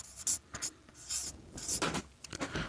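Chalk or marker writing on a board in a maths class, with quick scratchy strokes and taps in short bursts, close and clear, and no talk.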